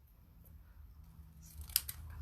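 Scissors trim card paper during a card-making class, a few quiet snips building to a sharp cut near the end against a faint background.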